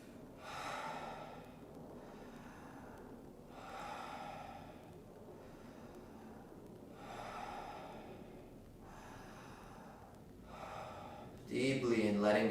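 Deep, slow breaths are drawn in and let out through the mouth during a yoga flow session, about five audible cycles of soft airy breathing in a steady rhythm, close and fairly quiet.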